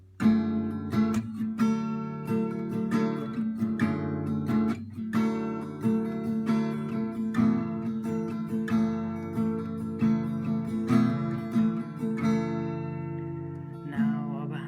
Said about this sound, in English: Then you have to hammer this index finger on the fifth string on the second fret